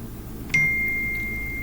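A phone notification chimes once with a bright, sharp onset, then rings on as a steady, clear tone that slowly fades in an otherwise quiet room.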